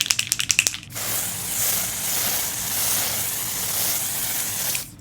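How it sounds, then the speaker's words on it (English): Dior Airflash setting spray misted in one long, steady hiss of about four seconds, close and fairly loud, after a few quick clicks of the nozzle. "I have been loving this Dior Air Flash. So not just for primer spray, but also for setting spray."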